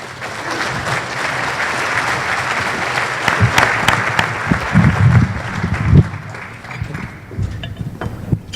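An audience at a Rotary club meeting breaks into sustained applause to welcome the speakers, a dense, loud clapping that swells near the middle and then starts to taper off.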